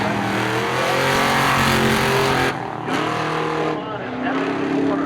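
Race cars roaring around the oval at Seekonk Speedway during a spectator drag race, loud engines revving and rising and falling as they pass, with an announcer calling the race over them.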